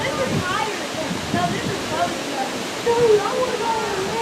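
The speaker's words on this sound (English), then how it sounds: "they got this little extended area to give you a really good view of the waterfall" Steady broadband rush of a waterfall at Rock City Gardens on Lookout Mountain, heard from an overlook, with faint voices of visitors in the background.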